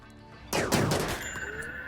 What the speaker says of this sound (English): looks like you're getting shot at